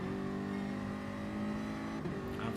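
BMW M3 race cars circulate Brands Hatch in a racing video game, engines droning loud and steady with a slight rise in pitch toward the end, no voices over them.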